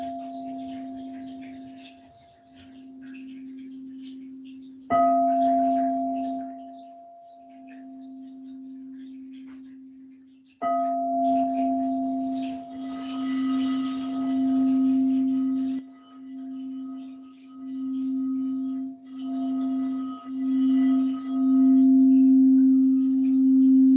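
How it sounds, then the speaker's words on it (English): A meditation sound bowl is struck twice, each strike ringing out in a clear sustained tone that swells and pulses as it is circled, continuing to hum with steady wavering resonance through a quiet room. "I'm going to be playing the sound bowl."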